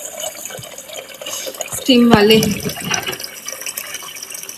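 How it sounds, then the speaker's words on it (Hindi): Clean water poured into a pot of washed rice in a home kitchen, a short splashing burst in the middle with someone talking over it. "इसमें दोबारा साफ पानी डालेंगे बॉईल करने के लिए, बनाने के लिए।"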